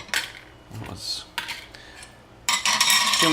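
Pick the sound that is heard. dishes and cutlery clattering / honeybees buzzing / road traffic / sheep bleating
dishes and cutlery clattering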